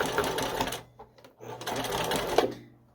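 A sewing machine back-stitches seams on a dog costume, running in two rapid whirring bursts separated by a brief pause, close and clear.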